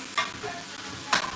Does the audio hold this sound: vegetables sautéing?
yes